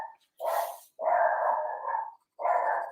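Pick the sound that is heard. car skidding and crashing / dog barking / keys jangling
dog barking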